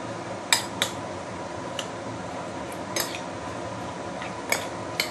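Metal utensils clink and scrape irregularly against a dish while ingredients for a deep-fried black pomfret are mixed, with a handful of sharp, close taps over a steady low background.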